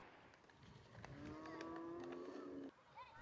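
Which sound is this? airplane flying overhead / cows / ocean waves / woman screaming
cows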